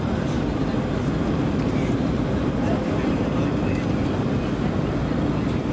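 Concorde supersonic airliner on its takeoff climb heard from inside the cabin, a loud constant low roar of engines and airflow filling the whole stretch without letup.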